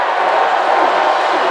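Spectators at a men's volleyball match between Hawaii and UCSB yell and roar loudly and continuously in an arena as the UCSB player prepares to serve.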